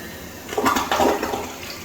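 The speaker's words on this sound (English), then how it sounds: "Let's check our flush." An old-style toilet in an 1800s bathroom remodel flushes, giving a brief, close rush of swirling water that swells and then settles into a softer trickle, with no voices.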